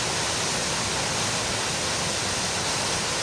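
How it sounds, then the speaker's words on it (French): Water from a small rivulet runs into a forest stream, giving a steady, broad rushing wash that stays even and continuous throughout with no voices. "Vous avez encore un petit ruissellement qui vient se jeter dans le ruisseau."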